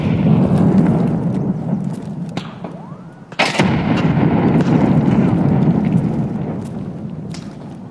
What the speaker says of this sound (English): I'm gonna throw a frag over here.